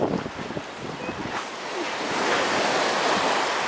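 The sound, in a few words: ocean waves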